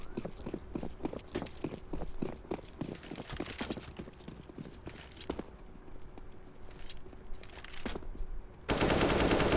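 Gunfire in the CS:GO match, a run of rapid sharp shots in quick bursts, then sparser single cracks under steady game noise, ending in a loud burst of static-like noise.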